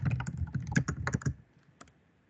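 Quick bursts of keystrokes on a computer keyboard as a title is typed into a Google Classroom form, a dense run of clicks for over a second, then a few scattered taps fading out, close and clear with no talking.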